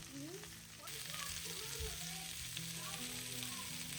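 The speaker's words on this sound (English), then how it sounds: "get that going and sauteing in our grapeseed oil" Onions and leftover potatoes seasoned with salt sauté in grapeseed oil, giving a steady, soft sizzle with faint crackles, with low indistinct household noise beneath.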